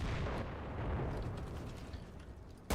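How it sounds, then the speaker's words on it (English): Rumbling artillery strike explosions in the Enlisted war video game, a dense, continuous roar of booms and bursts that slowly eases off, with a sharp blast at the very end. "I'm going to let artillery take care of it"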